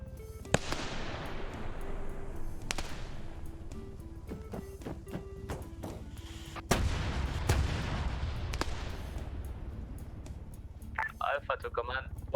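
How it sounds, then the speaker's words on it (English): Airstrike explosions boom across a battlefield in the military shooter Arma 3, several sharp blasts and cracks spread over time with rumbling tails, a heavier impact midway, and radio-like chatter briefly at the end. "they're starting to do airstrikes along that area"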